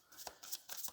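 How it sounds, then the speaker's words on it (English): Tarot cards being shuffled, three quick riffling bursts within a second, close and crisp but quiet. "I'm just going to continue the shuffle just a little bit more."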